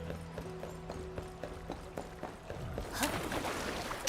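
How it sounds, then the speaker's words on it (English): Footsteps of a character in the video game Arknights Endfield, a steady run of soft repeated steps under game music, shifting to a louder, busier stretch of rustling steps near the end. "Her footsteps kind of sound different."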